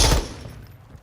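Video game gunfire, a quick loud burst of shots at the very start that cuts off and fades into a short, decaying tail.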